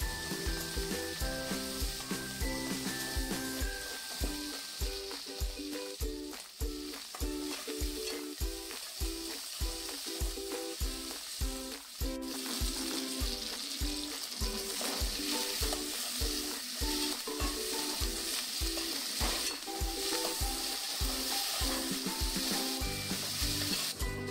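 Bagara rice ingredients fry in a pot with a constant loud sizzle, and a spoon scrapes through them in regular repeated stirring strokes, close up, with no talking.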